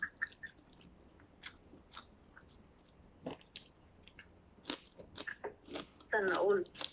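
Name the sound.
chewing and biting pancit canton noodles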